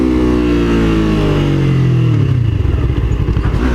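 A Yamaha R3 motorcycle engine runs steadily and loud, its pitch sliding down as it decelerates midway before settling into a rough, lower idle-like drone with some clatter.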